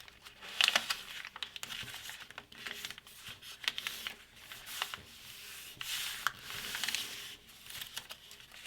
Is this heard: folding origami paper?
yes